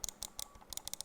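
Clicks from a Razer DeathAdder Chroma gaming mouse: quick, crisp, close taps in small clusters, some in rapid pairs, heard alone.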